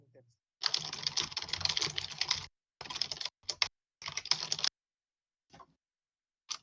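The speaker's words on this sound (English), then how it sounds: "Your keyboard smash." Someone keyboard-smashes, hammering rapid, dense bursts of key clatter on a computer keyboard. The bursts come in several separate flurries with short silent gaps between them, close and crisp.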